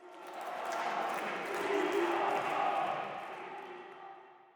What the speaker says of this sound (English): Whole crowd chanting and roaring for this guy